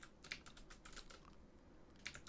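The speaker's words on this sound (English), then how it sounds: "keyboard ASMR" Light computer keyboard typing while coding, a quick cluster of soft key clicks followed by a pause and a few more taps, quiet and close with no voices.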